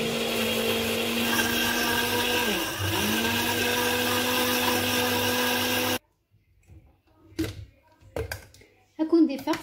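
An electric mixer whirs steadily at close range as it blends butter and other ingredients for homemade Nestlé-style caramel. The continuous hum dips briefly, then cuts off abruptly and is followed by faint clinks and quiet talk.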